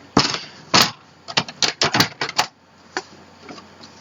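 Scoring 6x6 paper pieces for a Christmas mini shutter album: a series of sharp tapping and clicking strokes in an irregular cluster, close and fairly loud, then a few fainter taps trailing off.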